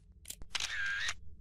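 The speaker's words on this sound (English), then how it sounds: "I just kept hearing a shutter sound every time I clicked the mouse" Camera shutter sound in the FNAF 4 game, a sharp click and short mechanical whir followed by a longer bright winding tone, close and alone with no voices.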